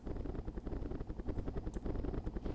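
Helicopter in Myth II Soulblighter, a close rhythmic rotor thump beating fast and evenly throughout, with no talking.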